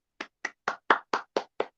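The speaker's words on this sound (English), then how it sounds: "let's give them 5 claps for that wonderful observation" A group of students clapping in unison, seven quick, sharp claps in an even rhythm, close and clear with silence between each.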